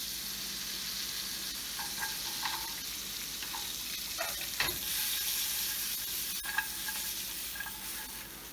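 Edible day lily blossoms sizzle in a lightly buttered, greased pan, a steady moderate hiss broken by a few soft clinks and scrapes of stirring.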